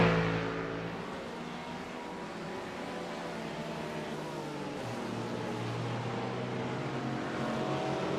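Porsche race cars roar together during an endurance race in a sim racing game, a steady dense engine drone with shifting pitches as several cars run close by, loud and unbroken without talking.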